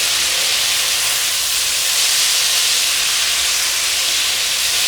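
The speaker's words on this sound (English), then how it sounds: "you just want to like give it like an extra deep fry for a minute" Squid pieces deep-fry in hot oil with a loud, constant hissing sizzle that holds steady throughout, close up and with no one talking.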